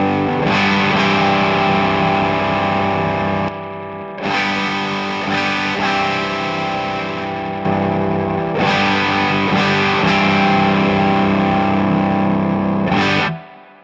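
Electric guitar driven through a Keeley Noble Screamer overdrive pedal set to its ODR1 EQ curve with a mid bump, playing loud sustained distorted chords in long ringing phrases with brief gaps between them, no talking.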